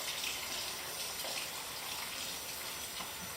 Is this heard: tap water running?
yes